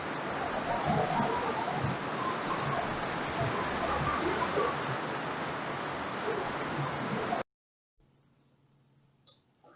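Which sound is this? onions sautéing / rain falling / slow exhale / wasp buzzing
rain falling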